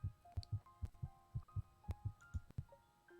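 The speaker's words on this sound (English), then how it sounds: "The sound of a heartbeat fills her ears," Heartbeat sound effect from the game Two Hearts As One, a soft, low double-thump pulse repeating steadily about seven times, with faint chiming tones layered over it.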